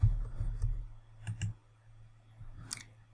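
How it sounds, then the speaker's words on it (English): A computer mouse gives a few light, sharp clicks close by against a faint steady hum, with a brief crisp tick near the end and no talking. "Now, if I single click on this record here,"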